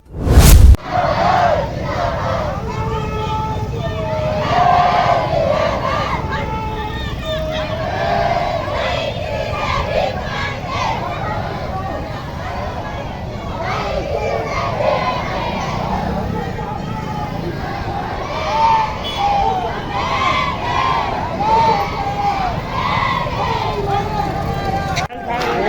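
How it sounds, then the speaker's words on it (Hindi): Large crowd of unemployed tribal youths at a rally outside the Banswara collectorate office, continuous loud shouting and slogan chanting with overlapping voices and roaring babble throughout. "आदिवासी बेरोजगार युवाओं की हुक्का रैली विशाल भीड़ के साथ बांसवाड़ा कलेक्ट्रेट कार्यालय पहुंची, आक्रोश व्यक्त कर नारेबाजी करते हुए"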